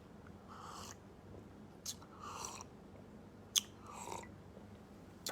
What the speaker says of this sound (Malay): Tuan-tuan boleh kunyah, boleh telan terus.